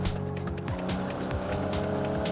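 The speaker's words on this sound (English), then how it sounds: "Nice bit of power still coming out of the engine" A custom car in a driving video game revs hard through a corner, its engine note climbing and dropping with gear changes while tires squeal steadily and loudly underneath.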